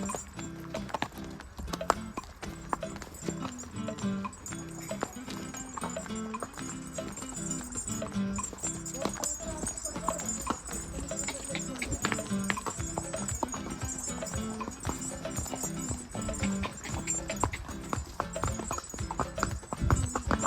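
Several hooves clip-clop steadily along a hilly mountain track near Nainital, a busy, continuous clatter of horses walking on stone, with an occasional faint whinny and a dense mix of outdoor background noise.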